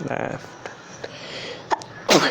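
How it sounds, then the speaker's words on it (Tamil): A child sneezes once, sharply and close, near the end of a kids' yoga session, after brief spoken instructions and some soft movement noise. "இவருக்கு வேறு ஏதோ காரணத்தினால தும்மல் வந்துச்சு."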